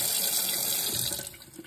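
Tap water runs steadily into a dye pot as it is rinsed out, a full hissing splash that eases slightly toward the end, with no talking.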